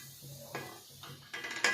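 Metal pan and utensil clatter while shakar para, sweet fried dough pieces, are stirred and turned over slow heat; a few soft scrapes and clinks spaced apart, close and quiet.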